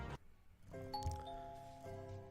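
Two-tone electronic doorbell chime ringing at Grandma Knight's house in the Gabriel Knight: Sins of the Fathers game, a clear ding-dong with sustained tones, fairly quiet and heard alone.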